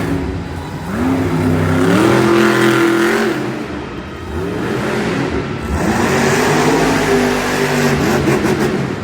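A monster truck engine at a Monster Jam event in Minnesota roars through two long, loud revving swells that rise and fall in pitch, separated by a brief dip, with crowd and arena noise in the background.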